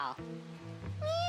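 In a video game, a voice talks first, then a short cat meow rises near the end, close and fairly loud.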